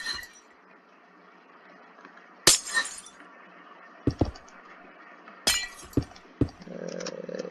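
Minecraft glass blocks being broken one after another, several loud shattering crashes spaced a second or two apart over a quiet background, with a low rumble near the end.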